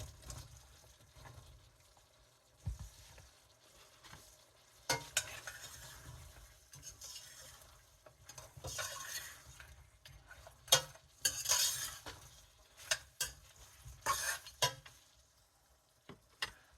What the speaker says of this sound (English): Now I'm adding in my carrots.